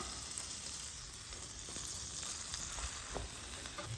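Butter sizzles steadily in a hot pan while a turkey Rachel sandwich fries on its second side, a continuous close crackle with small pops and no talking.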